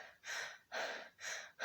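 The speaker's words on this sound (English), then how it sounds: "most people, breathe just with the lungs" Shallow breathing with the lungs: three quick, audible inhalations or gasps in an even rhythm, close and fairly soft, with short pauses between.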